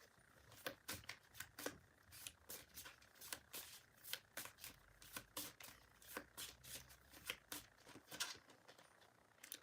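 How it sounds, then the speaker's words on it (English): Oracle cards from a Botanical Inspirations deck being shuffled by hand, a steady run of crisp riffling flutters and soft slaps repeating close up for several seconds, with no talking. "Let's get another card from the Botanical Inspirations deck."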